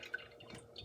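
Liquid drains off freshly churned butter in a faint, soft trickle with small drips, close by and alone.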